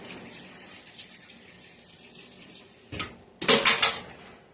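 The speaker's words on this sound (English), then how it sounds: "Sorry, I had to rinse my spoon off." Tap water runs steadily at a kitchen sink while a spoon is rinsed, a faint continuous wash giving way near the end to louder, splashing bursts and a clink of metal against the basin.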